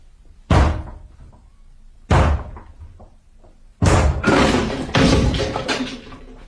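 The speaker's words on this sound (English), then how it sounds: "I'm going to break the door down, or rather we are." Heavy blows strike a wooden door as it is broken down, two separate thuds and then a quicker pair of loud crashing impacts, each ringing briefly, close and with no talking.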